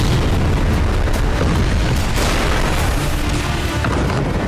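Explosions from Israeli airstrike missiles and glide bombs roar and rumble continuously, loud and heavy, with booming bursts layered over one another.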